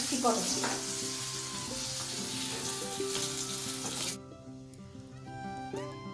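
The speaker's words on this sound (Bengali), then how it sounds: "এখানে মাছ ভাজছে মাছ না কাঁকরোল ভাজছে" Spiny gourd (kakrol) fries in hot oil with a loud, dense, crackling sizzle up close that cuts off abruptly after about four seconds, leaving a quieter background with faint clinks.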